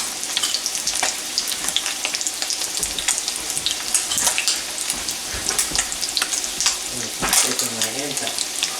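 Fish fry in a cast iron skillet with a loud, crackling sizzle, sharp spits and pops scattered across it, and some stirring or clatter near the end. No one speaks.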